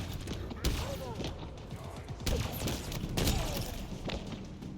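Cindershot firing bouncing projectiles in a Halo video game, a few scattered loud shots and thuds spread across the clip, with game noise and a voice talking over them.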